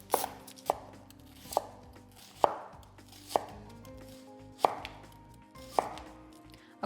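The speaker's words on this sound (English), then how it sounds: "we can chop our onion up" A knife chops a yellow onion on a cutting board, sharp distinct thuds landing about once every second, close and clear, with no talking.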